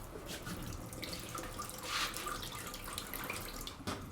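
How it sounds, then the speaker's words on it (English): Cold water runs steadily from a tap into a sink, a continuous broadband splash and gurgle at moderate level with a slight surge near the middle, no voices. "Nice cold running water."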